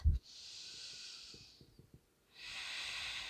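A long, slow, deep breath is drawn in and let out in a soft hiss, close and quiet, with a short pause before the next inhale begins.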